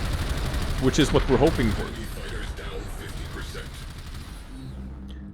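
Rapid gunfire from Warframe's space defense mission, shooting down enemy fighters near a cruise ship, crackling in dense bursts early on before thinning into a steady background clatter while someone talks over it.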